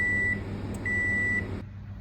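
An oven preheated to 190 degrees C beeps twice: two steady electronic tones, one short and one longer, sound close and clear over a low hum, followed by quiet.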